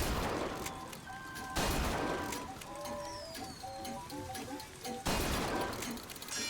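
Bursts of gunfire crack loudly in BioShock Infinite, with a heavy volley at the start and another near the end, and musical tones and game effects ringing between them.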